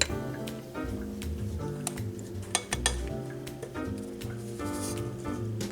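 Regular white sugar and brown sugar being mixed together for an apple cider pumpkin donut cake, with steady scraping and clinking of a utensil against a bowl and occasional sharper clinks, close by with no talk.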